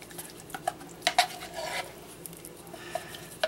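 Two cans of pumpkin going into a mixing bowl of dry ingredients, quiet soft plops with a few utensil and bowl clinks, close and fairly faint.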